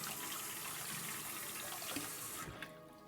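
Hot tap water gushes steadily over the edges of a container at a kitchen sink, a close, hissing, splashing stream that runs continuously and then cuts off near the end, leaving a quieter tail.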